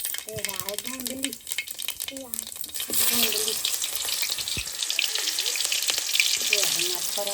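Cumin and mustard seeds tempering in hot oil for a Chhattisgarhi pihiri mushroom dish, a steady crackling sizzle that rises and fills the background while a voice talks over the start and end.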